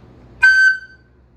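A flute sounds a single high F sharp, held clearly for under half a second and then stopping, with quiet room noise before and after and no voices.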